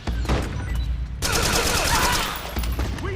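Dense automatic gunfire and bursts of shooting in a Metal Gear Solid 4 battle, loud and continuous, with a sharp onset of heavier fire partway through and a busy battlefield din.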